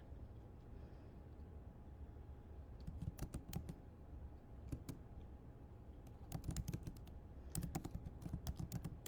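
Typing on a computer keyboard, bursts of quick key clicks with pauses between them, fairly close and quiet against a soft background hum.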